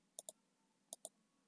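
Mouse clicks on a website link, five short crisp clicks in two quick pairs and a final single click, close and alone in a quiet room.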